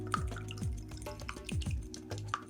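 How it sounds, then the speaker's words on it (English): A whisk mixes turkey meatloaf ingredients in a bowl, with a few soft rhythmic knocks and wet drips over about two and a half seconds, fairly quiet and close. "My handy little whisk."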